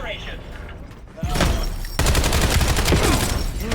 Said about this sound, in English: Absolutely filled them with bullets.